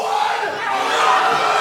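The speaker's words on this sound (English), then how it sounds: "Listen to this crowd." A wrestling crowd in Bacchus Marsh, Australia cheering and chanting, a loud dense roar of many voices that holds steady without a break.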